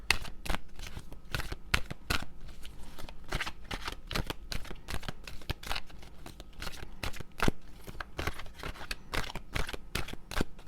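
Tarot cards being shuffled by hand in quick, continuous riffles, a dense run of crisp papery flicks and slaps up close, steady and fairly loud throughout with no talking.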